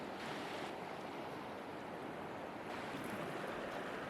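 A mountain river at a campground near Paonia, about 6,000 feet up, rushes steadily and evenly with a continuous broadband wash, moderately quiet and without voices.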